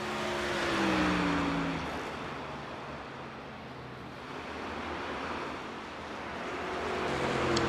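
Racing trucks in iRacing roar around The Milwaukee Mile at speed, a sustained loud engine drone with a high whining tone that rises and falls as trucks pass and pull away.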